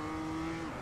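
A BMW M2 race car engine in iRacing at Tsukuba Circuit, a steady high droning note with a slight downward bend near the end, a brief burst alone without voices.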